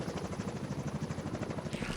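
A video-game helicopter thrums with a steady, rapid rotor chop, loud and continuous, with a brief higher whine near the end and no voices.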